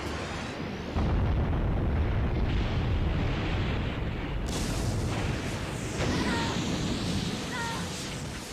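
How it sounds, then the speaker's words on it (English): A burst of fiery blast in the Yu-Gi-Oh! The Duelists of the Roses video game, loud and continuous with a roaring rush that fades into a lighter crackling tail. "Okay, Red Eyes. Use Infernal Fire Blast."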